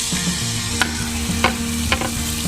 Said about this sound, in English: We put the skillet on medium-high, and we're going to let these sear.